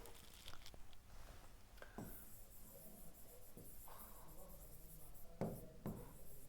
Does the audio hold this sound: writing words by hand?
yes